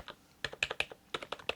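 Typing on a Red Dragon Shiva Pro 98 K515 RGB Pro membrane keyboard gives a quick, irregular run of soft, close-up key clicks, fairly quiet and alone.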